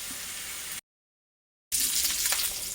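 Sausage browning in a hot pan for biscuits and gravy, a steady close sizzle and crackle of frying fat, broken by a short silent gap before resuming louder, with no talking.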